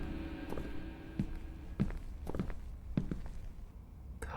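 Footsteps inside a spooky video game, a steady run of soft thuds at about half-second intervals beneath a low, droning ambient hum, with no talking.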